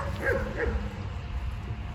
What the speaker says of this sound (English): I know Bella's our next door neighbor's dog, sorry. Bella's not having any of it.